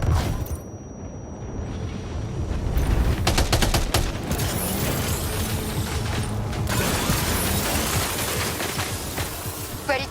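A volley of gunfire in the video game Death Stranding 2, sustained rapid bursts of shots and mechanical clatter crackling densely over a loud low rumble, close and continuous.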